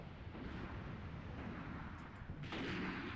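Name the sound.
mortar or rocket fire falling on position in Graviteam Tactics video game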